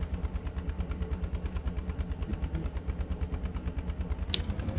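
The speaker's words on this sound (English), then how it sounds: "There is a motorcycle that's very annoying with its tube." A loud motorcycle engine with an annoying exhaust note pulses in a steady, rapid rhythm, close and continuous, with a short sharp click near the end.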